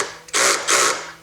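A drill on a low setting drives a screw into a podcast table in two close, loud whirring bursts separated by a brief pause.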